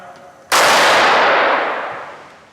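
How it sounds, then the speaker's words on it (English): A Ramset high-velocity powder-actuated tool fires once, a sudden loud close blast whose harsh roar decays slowly over about two seconds. "Make the firing call and pull the trigger"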